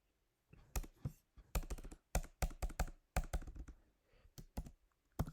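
Bursts of typing on a computer keyboard, quick clustered keystrokes in irregular runs with short pauses, close and fairly quiet, no talk.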